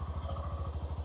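A Hero 125cc motorcycle engine idles in a quick, even putter, low and steady at close range with no other sounds.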